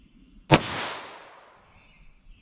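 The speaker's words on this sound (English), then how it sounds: "Let's see if I can get any reads through our 22 long rifle here." A .22 LR rifle fires a CCI Uppercut round, giving one sharp crack followed by a long decaying echo outdoors, with the start of a second shot right at the end.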